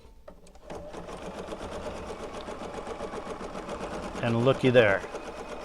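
A sewing machine stitching steadily from its very first stitch, running as a continuous mechanical whir with a voice talking briefly over it.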